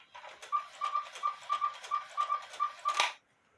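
Bellows of a 1950s Hubert Herr cuckoo quail clock under repair, sounding a quail call as a steady series of about a dozen short, evenly spaced whistled notes, clear and close, then stopping abruptly.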